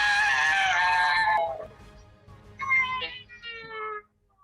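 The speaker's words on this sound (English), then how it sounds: "The rock flies into the air and lets out a massive shriek" A massive shriek from a rock creature in an audio drama, a loud sustained screech that cuts off, followed by two shorter, quieter cries.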